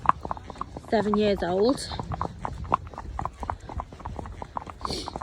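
Hooves of Kahula, a 14.1-hand pony, clip-clop steadily at a walk during a group hack, close and clear throughout while a person talks over them.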